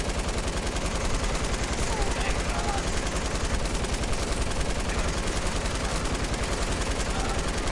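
Sustained machine gun fire in a Fortnite match, a dense rapid rattle of shots pounding continuously and loudly from start to finish.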